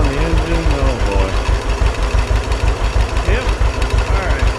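A John Deere 630 tractor engine, a barn find freshly revived with its carburetor tuned and smoke rising from it, runs close by with a steady, loud, pulsing low thump throughout.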